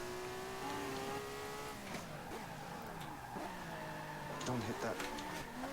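Rear tires of a race car skidding and squealing as it slides almost to a stop, with engine drone and tire noise throughout, several short squeals near the end, and someone talking over it.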